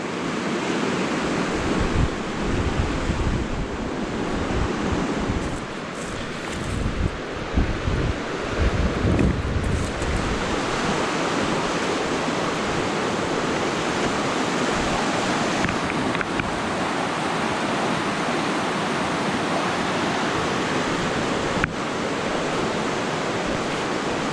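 Fast-flowing river water in the Adirondack Mountains of New York rushes in a loud, steady roar that fills the whole scene without a break, with occasional splashes and wind buffeting the microphone.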